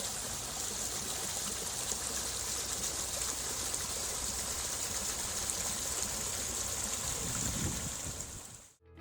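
Natural sweet-water spring at Kallar Kahar, a soft steady trickle and gurgle of flowing water, faint and continuous, with no voices.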